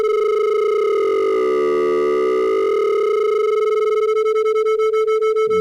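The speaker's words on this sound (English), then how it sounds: "Those are beats." Two steady pure tones near 440 Hz sound together, loud and sustained, their interference swelling and fading into slow beats that quicken toward the end.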